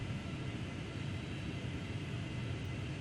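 Engines of a Boeing 757 on final approach in Flight Simulator X, a steady, loud, broad rumbling drone that holds constant throughout, with no talk.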